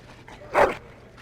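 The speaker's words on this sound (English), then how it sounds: "Bloody dog." A Mabari war dog in the fantasy game Dragon Age gives a single short whine or yelp, moderately loud and brief, with no talk over it.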